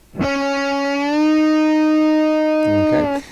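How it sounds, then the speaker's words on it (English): On an electric guitar, a note is played at the 6th fret of the third string and bent a full step upward. It rings loud and sustained with effects, then the bend releases with a short scrape at the end. "Full string bend sounds like this."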